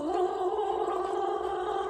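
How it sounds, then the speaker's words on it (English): A person gargles in a steady, close, bubbling throat rattle that runs unbroken for about two seconds. "Do some gargling."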